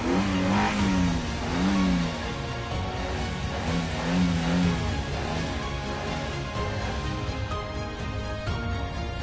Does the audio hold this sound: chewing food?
no